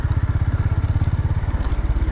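A hybrid motorcycle rides over a rocky mountain road, its engine thumping in a fast steady pulse close to the mic, with faint rattles over the low throb.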